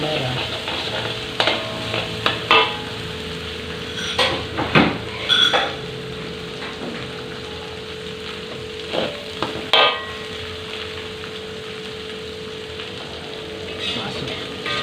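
Shallots, garlic, candlenut and red chili frying in a pan, a steady sizzle under repeated scraping stirs with a spatula and occasional clinks against the pan.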